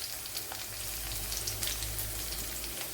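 Garlic and ginger frying in a pan for a Kerala-style chickpea thoran, giving a steady, close, crackling sizzle that holds evenly throughout with no talking.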